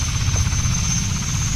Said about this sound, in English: this is again another helicopter that can easily flip and kill you